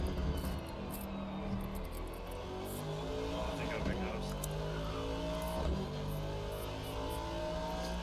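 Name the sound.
Ferrari race car engine passing, from video game Assetto Corsa Competizione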